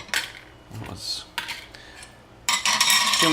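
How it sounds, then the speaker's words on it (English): Dishes and cutlery clatter close by in sharp bursts, metal clinks and knocks separated by short gaps, ending in a louder sustained rattle of pots and pans being handled. "too many dishes. Too many dishes."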